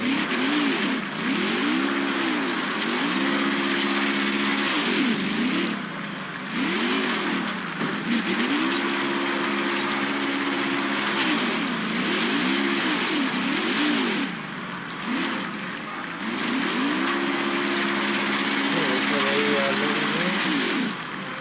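Stock car engine in a racing video game revving in repeated surges during a burnout at Talladega Superspeedway, loud and steady with rising and falling pitch swells, alone without talk over it.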